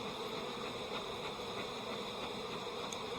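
Honeybees swarm around a hive as a subarctic beekeeper works it, giving a dense, steady buzz that holds at an even level throughout, fairly faint, with no talking.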